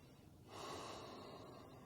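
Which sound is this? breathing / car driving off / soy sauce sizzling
breathing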